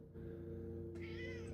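A pet cat gives a single clear meow of about half a second, close and distinct above a steady low electrical hum.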